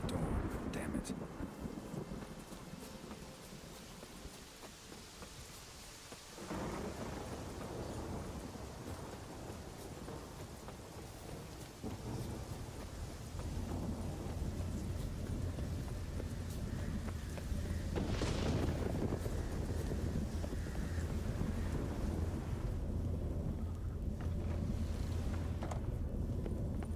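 A thunderstorm in a video game, with a steady hiss of rain and wind, deep rolling thunder rumbles underneath, and a louder crack swelling partway through, continuous and fairly full throughout.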